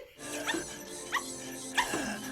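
A dog named Rusty barks in Batman: Mask of the Phantasm, giving three separate yapping barks spaced about half a second apart over a quiet backdrop.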